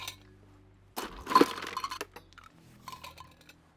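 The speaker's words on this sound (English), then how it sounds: "We're going to fill our tumbler with ice cubes." Ice cubes tumbling into a tumbler for a camp cocktail, a quiet pause followed by a clattering burst of clinks and rattles that gradually settles into scattered light knocks.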